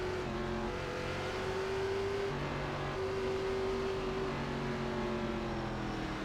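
Race cars on track at Charlotte in iRacing Gen 4 Cup, a steady close engine drone with a sustained tonal hum shifting in pitch, continuous throughout with no speech.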